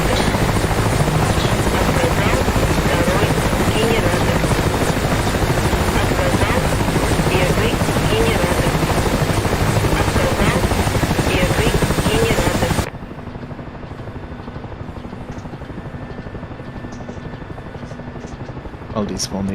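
Loud, dense rotor and engine roar of a helicopter-like aircraft in a flight video game fills most of the stretch, then cuts abruptly to a much quieter steady hum.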